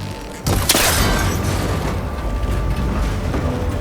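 A cable connector shot and broken in Horizon Forbidden West, a sharp loud crack followed by a bright metallic burst and a rumbling, scraping tail that settles into steady background noise.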